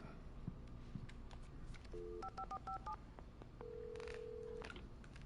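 Telephone keypad tones from a desk phone behind a shop counter in Alan Wake Remastered, a short burst of distinct DTMF beeps followed by one longer steady tone, over quiet game ambience.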